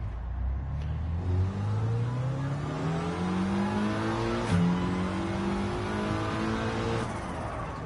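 A car in Gran Turismo 7 accelerating hard, the engine note climbing steadily through the revs with a brief dip at a gear change before climbing again, loud and continuous with no talking.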